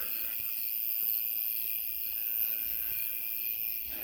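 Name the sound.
bugs chirping at night during a walk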